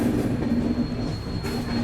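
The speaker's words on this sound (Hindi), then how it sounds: "पूरा कर्व पे है ट्रेन एकदम।" A Trivandrum–Bangalore Humsafar Express train rolls around a curve near Bangalore with a steady loud rumble of wheels on rail and a thin, sustained high squeal, heard from on board with no voices.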